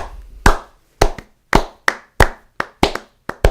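Sharp hand claps ring out alone in an uneven rhythm, about ten distinct claps over a few seconds, close and fairly loud, imitating arena fans at the Saddledome hockey rink.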